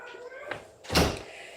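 A door swings shut with a single solid thump in a home, preceded by a lighter knock, with a voice chatting nearby.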